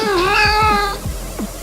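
A cat named Plop gives one long, drawn-out meow up close and clear, with soft low thumps pulsing underneath.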